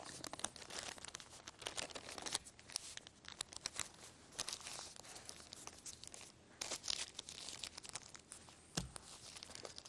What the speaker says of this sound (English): just proceed with taking a little piece of paper and rolling up the deck